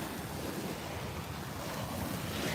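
Ocean surf washes in a steady, continuous roar close by, with wind buffeting the microphone throughout and no voices.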